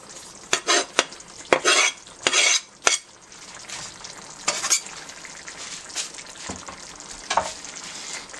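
Garlic frying in a pan for Greek pastitsio, with a soft sizzle under loud, irregular scraping and clinking of a utensil stirring against the pan.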